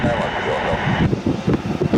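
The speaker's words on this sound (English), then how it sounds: "Switch sides, got a heavy jet coming in, international" A heavy international jet arriving at Washington Dulles airport, a broad steady engine roar with wind buffeting the microphone and a voice talking over it throughout.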